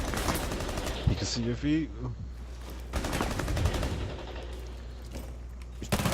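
Gunfire in a video game, bursts of rapid shots and sharp cracks scattered through the scene under excited voices talking.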